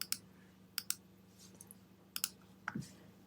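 Sharp computer mouse clicks while editing pieces in Cricut Design Space: a few quick single and double clicks spaced irregularly over a quiet room hum, close and crisp.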